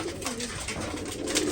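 Pigeons at their nest give a soft, continuous cooing, close by and steady, with no talk over it.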